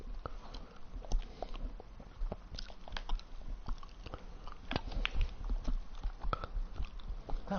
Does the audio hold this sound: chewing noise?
yes